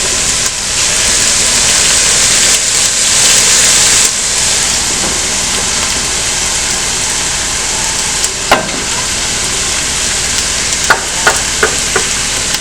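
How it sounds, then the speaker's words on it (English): Garlic and ginger sizzle and hiss steadily as they go into a hot frying pan for a chickpea stew, a loud continuous fry with a few sharp clinks of a utensil near the end. "I'm going to actually add the garlic and the ginger"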